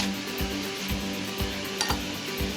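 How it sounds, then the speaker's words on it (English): Ground beef sizzles steadily in a hot pan, a constant crackling hiss with occasional low thumps of stirring or scraping. "Ooh, listen to that sizzle."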